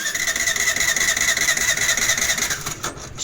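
A Suzuki Access BS6 scooter with slow-speed complaints is cranked to start: a steady mechanical whirring holds for almost three seconds, then cuts off abruptly without the engine catching, close by with no talk.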